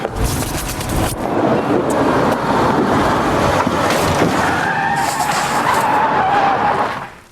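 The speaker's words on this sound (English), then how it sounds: "Car braking or something." A car brakes hard with a long skidding rush of tyres on the road, loud and continuous for several seconds before fading at the end, with no voices over it.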